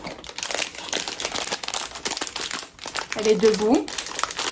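Crinkling plastic wrapper of a sticker pack being torn open, a close, busy rustle throughout with a sharper crackling burst near the end, mixed with someone speaking softly in French.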